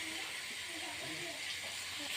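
Fish dropped into hot oil in a frying pan sizzles with a continuous, close, even hiss, with no break over the short stretch.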